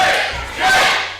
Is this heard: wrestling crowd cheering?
yes